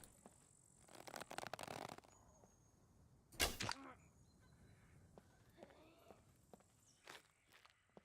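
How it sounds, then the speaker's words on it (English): Player footsteps stomp around in the video game SCUM as faint, scattered thuds and shuffles, with one louder nearby impact and light background chatter. "Stomping their feet around,"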